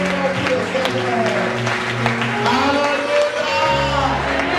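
A church congregation claps and cheers steadily for the Lord throughout, the applause dense and continuous, with music and voices mixed in.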